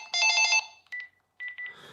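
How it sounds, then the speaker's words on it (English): A telephone rings close by, one long warbling electronic burst followed by a few shorter chirping tones, loud and alone. "Sorry, phone goes."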